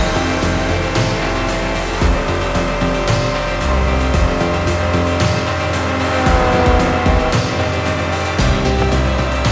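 A car with a manual gearbox, clutch dropped fast and throttle jammed after a shift into fifth, roars loudly with a sustained engine drone, brief drops at each gear change, and some tire noise.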